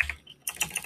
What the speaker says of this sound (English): Sorry if that typing's loud.